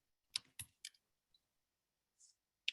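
Sparse keyboard typing on a computer, a few separate clicks and short bursts with gaps of silence between them, quiet and close, with no voices.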